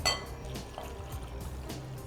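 Water from a Kent purifier is poured over raw meat to clean it in a kitchen. It makes a soft, steady trickling splash for about two seconds, quiet and alone, with a faint clink at the start.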